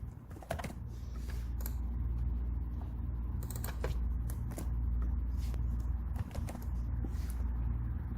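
A computer keyboard clicks in quick irregular bursts as a full name is typed, close and clear over a low steady hum.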